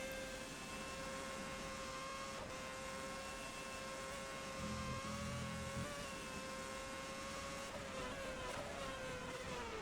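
A racing car engine in a sim racing game at the Malaysian Grand Prix drones steadily at high revs, a sustained buzzing note with slight pitch shifts, heard alone without speech.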